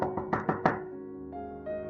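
Four firm knocks on the pigs' house door as the wolf pounds in a children's telling of the Three Little Pigs, evenly spaced and close, followed by a lingering tonal hum.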